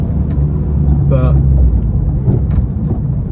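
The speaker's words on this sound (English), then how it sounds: "that Miltech just sounds so amazing" A deep, steady engine rumble from a Mini Cooper S R53 with a Milltek exhaust, running close by throughout with a brief spoken word layered over the low drone.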